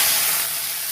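Onions and green chillies hit a hot pan for mushroom bhurji, giving a loud, bright sizzle and hiss that fades slightly over one second, with no talking.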